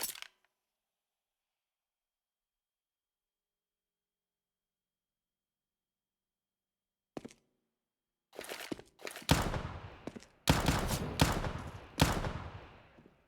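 Gunshots in Counter-Strike: after a long silence, a single sharp shot, then rapid bursts of loud gunfire that grow denser toward the end.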